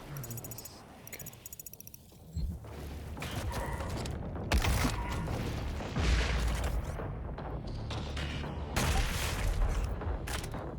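Gunfire rings out in the DOOM Eternal video game, with a rapid string of booming shots and blasts in bursts over game effects, loud and close.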